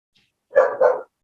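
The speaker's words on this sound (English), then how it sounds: "the dog's barking" A dog gives a single loud, close double bark, two quick connected woofs over a near-silent background.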